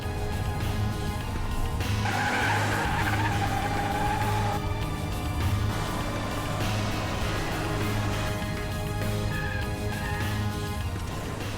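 A car speeding through a chase scene, engine roaring under a continuous dense rumble with squealing tire skids rising in bursts, loud and close throughout.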